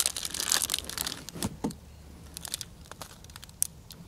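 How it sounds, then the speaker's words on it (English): Dry, very salty cheese being sawed with the saw blade of a Wenger Titanium 2 pocket knife, giving close, scratchy crinkling and crackling bursts that come thickest at the start and thin out to sparse crumbly cracks. "This is really salty and dried cheese, so it breaks a bit"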